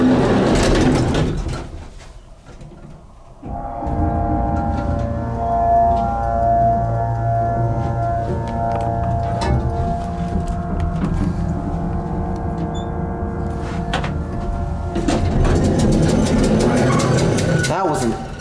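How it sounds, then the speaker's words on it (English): Vintage ESCO hydraulic elevator motor at Pemberton Heights in Austin, Texas, starts with a thump and settles into a steady, loud, close hum with a faint whine, broken by brief clunks, with a voice talking at the start and end. "That was an epic motor."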